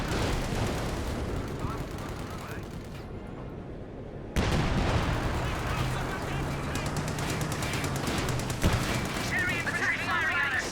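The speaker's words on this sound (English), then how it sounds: "All 25-pounder howitzers in the British Army HQ to quickly fire at the targeted location." In a World War II strategy video game, British 25-pounder howitzers fire a barrage. Rapid booms and crackling blasts roll on continuously, with a sharp surge partway through, while a voice talks over the battle.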